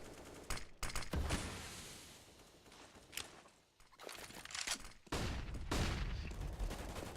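Bursts of rifle fire in Counter-Strike on the Inferno map, several sharp volleys and single shots crackling in quick succession, loud and close, with short gaps between exchanges.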